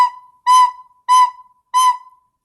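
A recorder plays the B note softly four times, evenly spaced sustained tones close up with no one talking.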